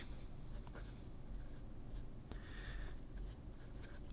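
Nibs of freshly inked fountain pens, including a Pelikan P363, scratch steadily across paper in soft, continuous strokes with brief lifts between them, close and quiet, with no one speaking.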